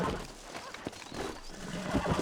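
A wild horse whinnies in the Red Dead Redemption video game, brief neighing bursts mixed with hoof clip-clops and background game ambience, moderately loud and close.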